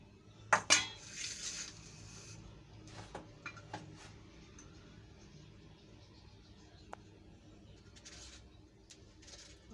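A knife cuts raw papaya into small pieces, giving scattered soft taps and clicks, with a couple of louder clattering clinks near the start against a quiet kitchen background.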